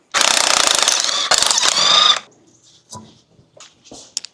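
Harsh grinding, rubbing scrape from the front wheel brake of a lifted car with a scored disc and new pads, loud for about two seconds with a short break, then faint knocks and clicks.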